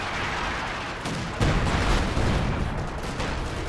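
Battle fire in Company of Heroes 2 as an M1 gun opens up, a dense roaring wash of gunfire and blasts with a heavier burst partway through, loud and continuous, with no talking.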